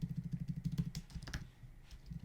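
Typing on a computer keyboard gives a quick run of soft key clicks, close and fairly quiet, that thins into a few scattered taps over a low hum.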